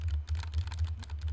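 Rapid, steady typing on a Turtle Beach Vulcan II TKL Pro RGB gaming keyboard, a dense run of close, clattering keystrokes over a low constant hum.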